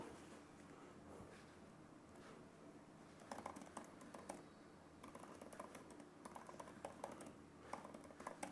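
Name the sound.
typing on a computer keyboard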